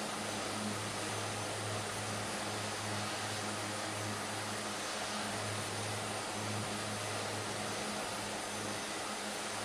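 A Twin Otter propeller plane in a flight video game, flying over Peru, holds a steady, even engine drone with a low hum throughout, close and constant, with no talking.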